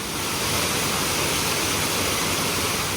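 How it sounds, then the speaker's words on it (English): Water splashing and rushing on a river rapids ride at Drayton Manor theme park, a steady, loud broadband wash of churning water with no talking. "Got a tiny little splash there on the rapids"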